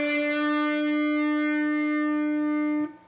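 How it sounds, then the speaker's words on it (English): A single electric guitar note on the G string at the 5th fret, bent up a full step and held, ringing clear and sustained with a light effect tail before cutting off near the end. "we're going to pick our G string 5th fret and we're going to bend it up a full step"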